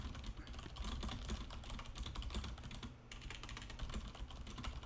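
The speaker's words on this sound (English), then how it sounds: "I am doing a typing test." A computer keyboard clattering through a typing test, fast continuous keystrokes in a dense, even stream with only a brief pause.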